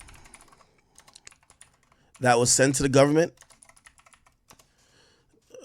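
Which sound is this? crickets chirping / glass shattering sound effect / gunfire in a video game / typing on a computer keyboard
typing on a computer keyboard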